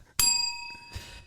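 A single bright bell sound effect strikes once with a sharp metallic ding, its ringing overtones decaying over about a second, followed by a faint soft thump.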